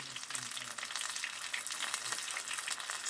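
Philly soul rolls fry in hot oil in a pan, giving a steady, soft crackling sizzle with scattered pops throughout. The sound is continuous and fairly quiet, with no talking.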